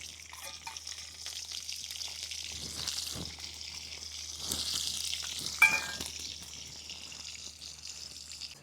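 Cumin seeds and garlic sizzle steadily in hot oil over a wood-fired chulha, with a bright frying hiss and a few louder spatters and stirring scrapes, close and with no talk.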